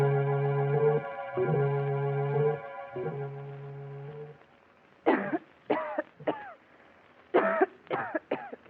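A woman coughs in a 1944 mystery radio drama: a burst of harsh, repeated coughs and hacking after a held musical chord, close and fairly loud, in irregular clusters.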